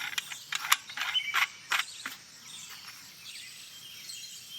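Retaining ring screwed back onto a Celestron EdgeHD telescope tube, a quick run of faint close ratcheting clicks and threaded scraping, then a quieter pause with light rustling.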